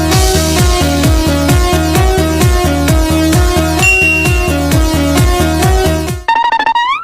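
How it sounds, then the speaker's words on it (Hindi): A been, the snake charmer's pipe, plays a loud, steady, droning melody with a repeating pulsing rhythm, ending in a short, wavering, sliding tone. "घंटा भर हो गया बीन बजाते बजाते"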